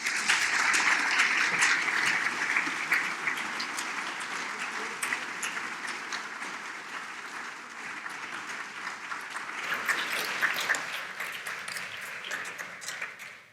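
A large audience applauds steadily to welcome speakers onto a stage, a dense wash of clapping that lasts throughout, dips slightly midway, then swells again before fading out.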